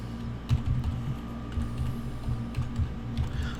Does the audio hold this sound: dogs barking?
no